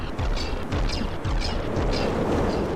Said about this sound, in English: a lot of missiles just getting straight in on top of the deck there